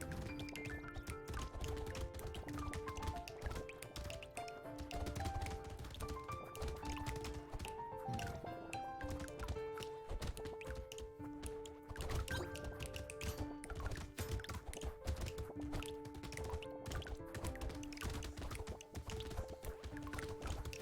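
Rapid wet splats and squishy hits from Brotato's combat splash effects patter continuously over steady looping game music, dense and busy with no speech.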